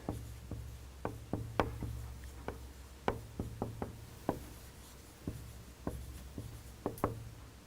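Marker or chalk strokes on a board noting a year, with a quick irregular run of sharp taps and short scratchy writing sounds, close and fairly quiet, with a steady low hum underneath.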